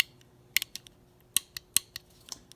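Sharp mechanical clicks from the switch on a John Deere 310D backhoe reverser solenoid being tested on a bench, about eight close, crisp snaps in an irregular rhythm with no talk.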